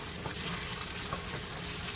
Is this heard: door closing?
no